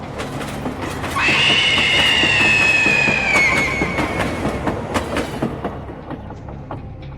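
A running train rumbles loudly with rhythmic clatter of wheels on track, joined by a sustained high metallic wheel squeal that rises and fades, and the noise continues alone without voices.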